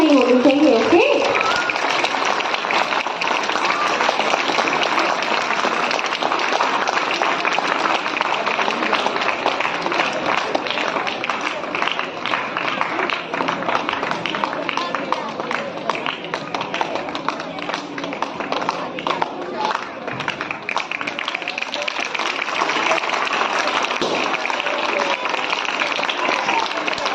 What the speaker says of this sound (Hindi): एक बार जोरदार तालियों की गड़गड़ाहट कम नहीं होनी चाहिए